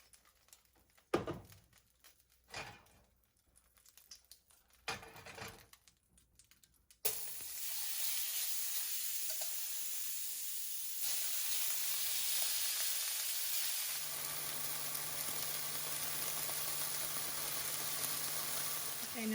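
Beef for lomo saltado sizzling in oil in a pan, preceded by scattered knocks and clatter, then a loud steady broadband hiss that swells further midway and persists close up.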